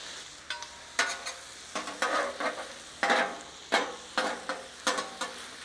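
Sandwich filling with melting cheese frying and charring in a hot pan, with repeated bursts of scraping and stirring over a steady sizzle, close and moderately loud, no talking.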